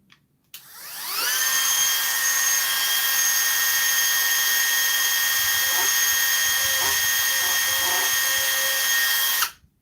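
A power drill spins up to a steady, loud, high whine and holds it for several seconds, with a few faint bumps from the bit biting in, before it cuts off abruptly.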